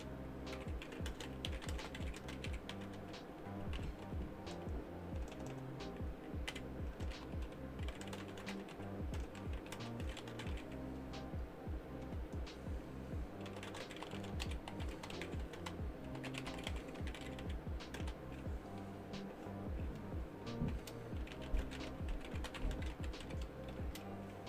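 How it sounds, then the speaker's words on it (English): Rapid, steady typing on a computer keyboard, close and continuous for the whole stretch with dense key clicks and little pause. "type this real quick"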